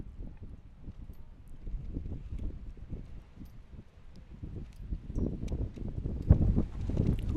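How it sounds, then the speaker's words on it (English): Strong wind gusts buffet the microphone at an outdoor college baseball game, a rumbling, uneven roar that swells louder toward the end. "Another big gust coming through here."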